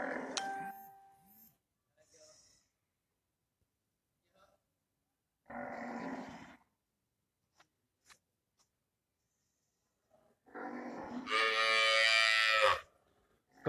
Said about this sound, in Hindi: ये हमारे पास भैंस खड़ी है।